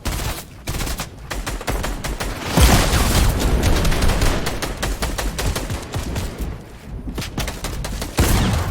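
Gunfire hitting the player in the video game Fortnite: loud, rapid bursts of automatic shots crackling close by, with heavier booming impacts and brief lulls between volleys, no talking.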